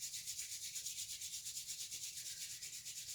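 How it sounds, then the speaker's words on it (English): Palms rubbed briskly together during a yoga session, a soft, steady swishing friction with a quick, regular back-and-forth rhythm, close and quiet, with no talking. "rub the palms together to build some heat"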